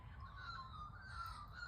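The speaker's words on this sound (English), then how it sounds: "you can hear a different array of birds" Magpies and other birds call in a grandmother's garden in the morning, steady outdoor birdsong with a harsh, cawing quality over a low constant background rumble, no voices.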